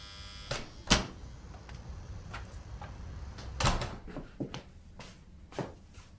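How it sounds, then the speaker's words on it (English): A door being opened in an office: a string of clicks, knocks and rattling handle sounds spread irregularly over several seconds, close and fairly quiet, with no voices. "Jason opened the door for me"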